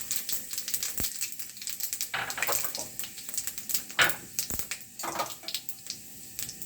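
Dried chilli, bay leaf, cinnamon and cardamom frying in hot oil, a soft steady sizzle broken by sharp crackles and pops and a few clinks of a utensil against the pan.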